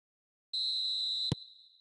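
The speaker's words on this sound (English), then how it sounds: "Referee's had a look, and he's blown his whistle for half-time." A referee's whistle in a football video game blows for half-time as one steady, high-pitched blast of under a second, cut off by a click and followed by a faint fading ring.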